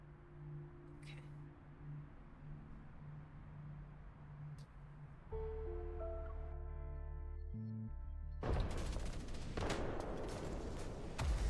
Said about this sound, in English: Countless bullets whiz above our heads as I take cover